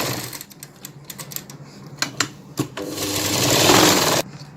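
A sewing machine stitches the lining of a katori-style lined blouse, its close, steady whirring broken by short pauses and restarts, then running in one longer continuous burst before stopping abruptly.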